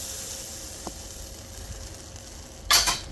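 Boneless milkfish mechado cooking in a pan, Filipino style: a steady soft sizzle and hiss runs throughout, swelling into a louder burst of frying near the end.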